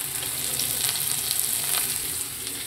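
Chopped garlic and onion fry in hot oil with a loud, steady sizzle that runs close and continuous throughout.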